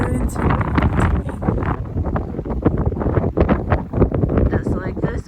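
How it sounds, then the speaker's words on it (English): Strong blizzard wind buffets the microphone in a continuous, loud roar with gusting surges, while a voice talks over it throughout. "Just like this wind. Hardly see down the street."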